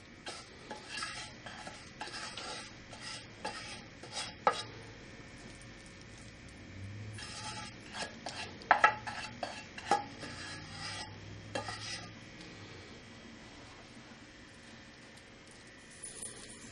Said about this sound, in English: it's time to spread it in the pan